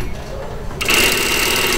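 A sewing machine stitching a gathered puff sleeve into a blouse armhole starts up after a quiet moment, then runs in a steady, fast mechanical whir close by.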